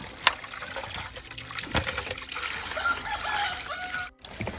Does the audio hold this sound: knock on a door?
no